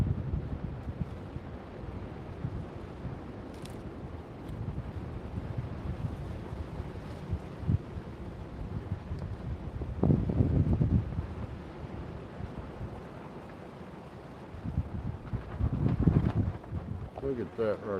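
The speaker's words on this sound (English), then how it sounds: "The wind's starting up." Outdoor wind gusting across the microphone, a continuous low rumble that swells in a couple of stronger blasts, with a voice talking at times.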